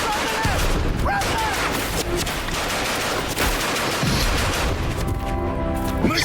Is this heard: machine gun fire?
yes